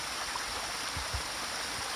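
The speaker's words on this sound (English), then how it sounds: "Now that is a water source." A small mountain stream along the Appalachian Trail flows steadily with a constant rushing, gurgling wash, heard close and alone with no voices.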